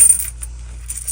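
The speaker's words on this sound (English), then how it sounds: "And then put the little change in here" Small coins clink as they drop into a handmade sewn wallet, a few quick bright metallic taps near the start and end with a quiet pause between, close up with no talking.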